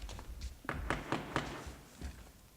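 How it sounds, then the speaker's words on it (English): Knocking on a door as a stage sound effect during a student-run Macbeth performance, a scattered series of dull taps and thumps at moderate distance, irregular in rhythm, with no voices over it. "Whence is that knocking?"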